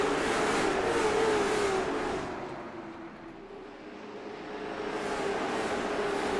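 Late model stock cars running side by side at speed at Hickory on a green flag lap, a loud engine roar that swells, dips away briefly as the pack passes, then builds again.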